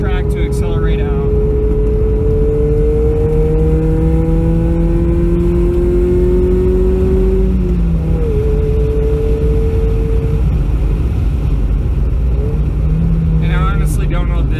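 Race car at Raceway Park of the Midlands accelerating out of a turn, its engine note loud and close, climbing steadily in pitch, then shifting and pulling again, with wind buffeting throughout.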